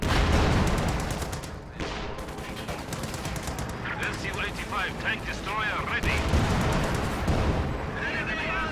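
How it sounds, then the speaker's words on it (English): Stuka dive-bomber barrage in the World War II strategy game Company of Heroes, with continuous rumbling explosions and crackling gunfire in a dense, loud battle mix, and a voice commentating over it. "Stuka barrage firing on the conscript blob"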